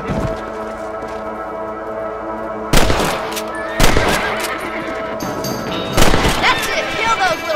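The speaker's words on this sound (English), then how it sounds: "Nice shooting. Good shot." Gunshots in Red Dead Redemption while hunting a rabbit: three sharp, loud reports spaced a second or two apart over a quieter game ambience, with speech in between.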